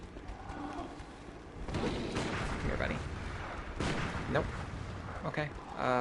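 Gunfire aimed at bugs in the video game Bloodborne, several booming shots with rough, noisy tails spaced a second or so apart, under a dense game soundscape and some speech.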